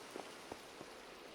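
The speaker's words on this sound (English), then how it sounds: "Oh, it's raining." Rain falling in a Minecraft game world, a soft steady patter with a few faint drop-like taps, quiet and even throughout.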